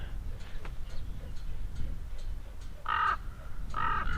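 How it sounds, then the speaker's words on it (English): Two loud, harsh crow caws ring out near the end, spaced about a second apart, over a low steady wind-like background in open desert parkland. "and a crow"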